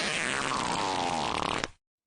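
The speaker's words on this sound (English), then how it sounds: "Willy and Peter dropped their pants and pumped out loud, bubbly brown fart blasts" Loud, bubbly fart blast from two boys with their pants dropped, a long wet sputtering rumble lasting nearly two seconds with crackling bursts near the end before cutting off abruptly.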